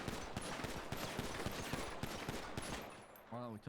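Rapid automatic gunfire in GTA roleplay rattles in a dense, continuous burst of shots for about three seconds, loud and close, then cuts off as a voice starts speaking.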